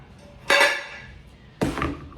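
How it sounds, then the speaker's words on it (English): Dishes clanking and clattering while a dishwasher is being unloaded and reloaded at home, two loud bursts of clinking ware about a second apart, each ringing briefly before fading. "I'm just unloading the dishwasher, gonna load the dishes"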